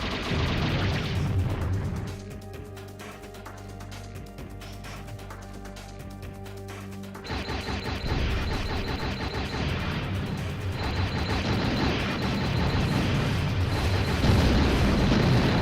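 Buildings blown up in the Hellbender video game, a dense, loud rolling roar of explosions and booms that swells, dips briefly, then surges again and stays sustained throughout.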